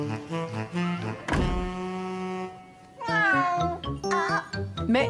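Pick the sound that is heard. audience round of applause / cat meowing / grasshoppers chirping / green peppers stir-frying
cat meowing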